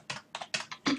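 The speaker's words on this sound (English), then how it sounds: "all we're going to do is type in that number" Several quick keystrokes on a computer keyboard as a number is entered, clattering in short close bursts with brief pauses between them.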